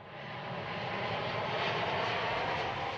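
An Air France Boeing 787 comes in to land on a runway in Paris, its engines producing a broad, steady roar that slowly grows louder and fills the air without pause.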